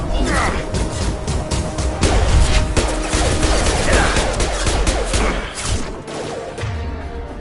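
Gunfire from weapons in the Mass Effect 2 video game, a dense run of sharp shots and thuds with crashes over continuous battle noise, loud and sustained throughout.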